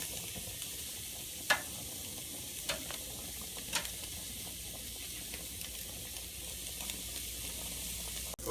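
Peppers sizzle low on a Broil King Porta-Chef tailgating grill, a constant close frying hiss broken by a few sharp crackles and pops, with no talking.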